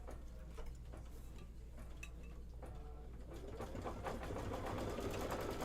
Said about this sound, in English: Do the decorative stitch.